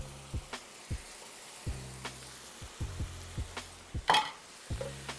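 Fresh garlic, red pepper flakes and spices are stirred in a frying pan of sizzling fat for steak bites, a low sizzle steadily underneath with repeated scraping knocks of the utensil roughly every half second.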